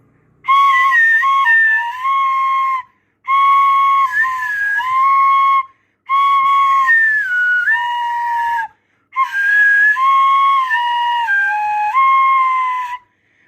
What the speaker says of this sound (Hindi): अब इसकी फ्लूट की आवाज को सुनिएगा।